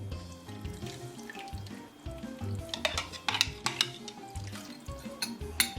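Italian beef ingredients being stirred together in a pot, a busy mix of scraping, clinking and wet sloshing over a steady cooking hiss, growing a little louder toward the end.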